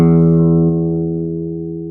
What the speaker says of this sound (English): that's what the E note sounds like